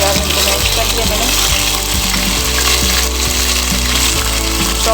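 Mashed onions sizzle loudly and steadily in hot oil in a pan for Mughlai chicken handi, a dense continuous frying hiss with occasional stirring clicks.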